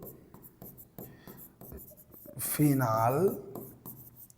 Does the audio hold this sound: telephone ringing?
no